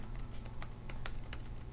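Quiet, rapid key presses on a Zenbook 14 laptop keyboard, a dozen or so soft irregular clicks close to the mic over faint background hiss.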